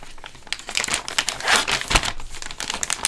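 An envelope being opened, close and loud paper crinkling and rustling in quick irregular bursts that continue throughout.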